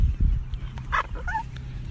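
A dog named Harley gives a few short, yippy barks and whimpers, close and moderately loud over low room rumble, lasting under two seconds.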